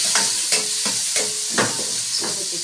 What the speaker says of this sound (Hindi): ये घी मैंने प्याज ऐड कर दिए हैं।